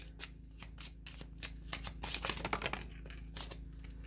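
A Lenormand deck of cards is shuffled by hand, giving a quiet, close series of crisp flicks and riffles in an irregular rhythm, with a busier burst in the middle and a faint low hum beneath, no talking.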